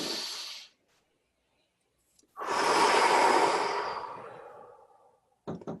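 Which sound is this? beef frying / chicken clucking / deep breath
deep breath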